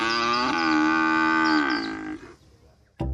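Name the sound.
cow mooing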